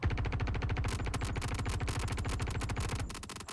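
A P4 AR rifle in Star Citizen fires in a rapid, steady automatic burst of sharp, evenly spaced shots. The close, loud stream runs for about three seconds and then tapers into a short echo.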